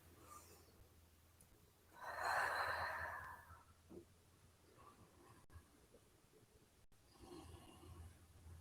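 A long, audible exhale during a yoga class for anxiety, one broad breathy swell a couple of seconds long, close and fairly soft, followed by quieter breath sounds over a low steady hum.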